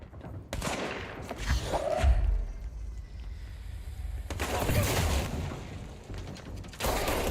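Bursts of gunfire ring out in the video game Control, with broadband volleys at about half a second, four and a half seconds and near the end, separated by lower rumbling action sounds; no one speaks.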